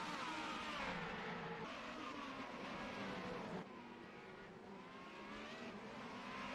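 Race cars at the IMC Race 1 at Kyalami, South Africa, roar together into the first turn after a close start, a dense, continuous layered engine drone with a shift in pitch partway through.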